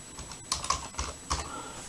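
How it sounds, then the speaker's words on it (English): A handful of separate keystrokes tap on a computer keyboard as a word is typed, close, crisp clicks spaced unevenly across a quiet room with a faint steady background whine. "I'm just going to type in aileron"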